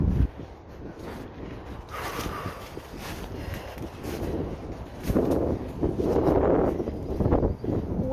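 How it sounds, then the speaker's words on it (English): Wind gusting outdoors on a muddy walk through grassy countryside, a steady rushing buffet against the microphone that swells louder in the last few seconds, with faint rustling and footstep-like scuffs. "Wind."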